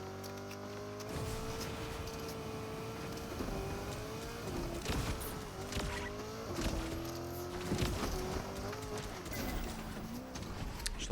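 A car drives in Fortnite Chapter 7 Season 2 with a continuous engine drone that rises and falls in pitch, loud and steady amid game noise.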